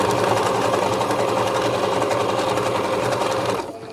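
A sewing machine stitches thick curtain fabric with a blind hem foot, whirring in a fast, even, close rhythm for several seconds before stopping.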